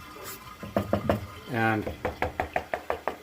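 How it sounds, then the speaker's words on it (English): Knocking on a drain pipe where it meets a building's main sewer produces a series of hollow, evenly spaced taps, close and fairly loud, with a short burst of speech partway through. "I can knock on this pipe and tell that it is not full of water"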